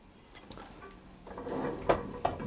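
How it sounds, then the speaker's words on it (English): Metal pan lid set on a skillet and the pan flipped over to invert a Spanish tortilla, faint clatter building to two sharp knocks near the end. "I'm going to just put my lid on, and I'm going to turn that over."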